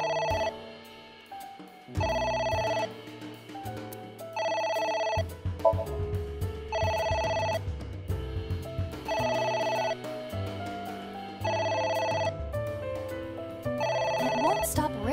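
A telephone rings repeatedly in the video game AI: The Somnium Files, in regular bursts of bright electronic trills over a low background music bed.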